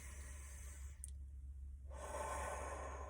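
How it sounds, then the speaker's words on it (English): Slow, deep meditation breathing drawn in through the nose and let out through the mouth, heard as soft airy hisses with a brief pause between them, faint and close, with no talking. "in through the nose, out through the mouth, deep breathing"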